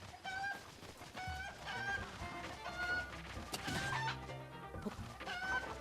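Chickens cluck and squawk in The Legend of Zelda: Breath of the Wild, repeated fowl calls over game music and effects, fairly close and steady through the scene.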